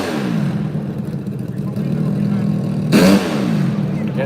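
An open premier-class nitro hill-climb motorcycle revs at the start line of a Freemansburg, PA event, a loud continuous engine roar that surges briefly near the end, under an announcer's voice.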